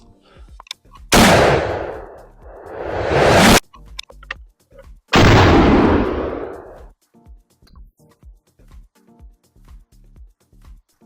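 A Halken .54 caliber rifle loaded with a 120-grain powder charge fires outdoors. Each loud, booming blast rolls out over a long roar, followed by quieter, evenly spaced clicks.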